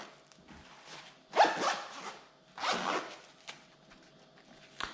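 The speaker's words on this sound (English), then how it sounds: "Now, going inside the pouches, both pouches have double zip pulls." Zippers on two compact EDC pouches, a Maxpedition Mini and a Vanquest PPM Husky 2.0, fitted with YKK double zip pulls, run in two long close ripping strokes with smaller rustles and clicks of handling around them.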